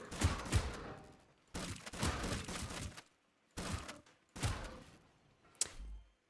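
Bursts of gunfire from Scrap Mechanic crack out in four or five clustered volleys, loud and close, separated by brief silences, ending with a single sharp shot.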